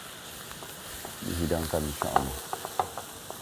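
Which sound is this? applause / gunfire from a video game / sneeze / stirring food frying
stirring food frying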